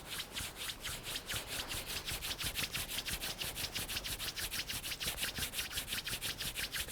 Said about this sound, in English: we're going to rub the palms, creating some heat